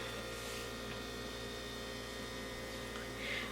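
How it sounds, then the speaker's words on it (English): A refrigerator hums in a home room, a steady low drone with faint broadband hiss that runs unchanged throughout, with no talking. "if you hear that, that's my fridge"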